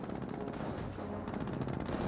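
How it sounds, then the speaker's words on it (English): An MG42 machine gun fires in a Company of Heroes battle, a dense continuous rattle of gunfire mixed with battlefield noise for about two seconds, loud and close. "Does get suppressed by the MG42"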